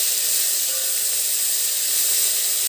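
Ginger paste, tomatoes, mint and coriander fry in a pan with a strong, continuous close hiss of steam and sizzle that cuts off abruptly at the end.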